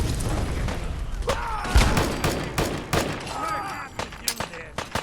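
Scattered gunshots and booming impacts from a firefight in Fallout 4, sharp cracks popping irregularly over several seconds with a voice talking in between.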